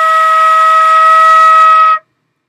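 A flute holds a steady E flat for about two seconds at a loud, even volume, then stops cleanly into silence.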